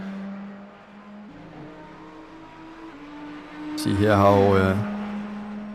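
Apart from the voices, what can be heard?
BMW race car engine accelerating in racing video game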